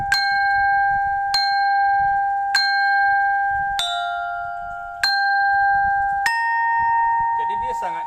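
A small, centuries-old, badly out-of-tune metal bar from an old Balinese angklung, struck six times at a steady pace, each strike a bright ringing tone that sustains fully between hits. A faint low hum sits underneath, and a last tone ends in a wavering sound.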